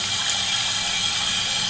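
Lukewarm tap water runs steadily over a shaving brush being rinsed, a loud, close, continuous splashing rush with no break.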